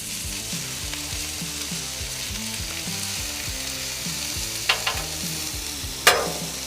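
Hash browns fry in a pan alongside bacon, sausage and onions, giving a steady broadband sizzle with low stirring clatter throughout and a couple of sharp utensil clinks near the end.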